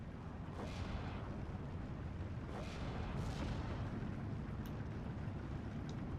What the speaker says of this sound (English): And the off-map artillery helps out a bit too.